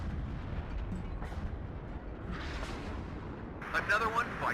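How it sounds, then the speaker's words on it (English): Artillery fire in the WARNO strategy video game, several muffled distant booms and crackling bursts over a low rumbling battlefield bed, with a sharper crackle near the end. "I'll fire more artillery in that corner."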